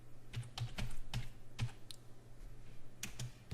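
Computer keyboard keys tapped in a quick, uneven run of close, crisp clicks over a low steady hum, with no voices.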